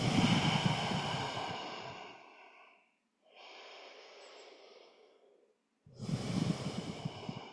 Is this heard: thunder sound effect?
no